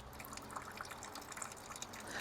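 A solar-powered pump on a midcentury fiberglass waterfall fountain lets water trickle and drip slowly, a faint, steady splashing with small irregular drops and no talking.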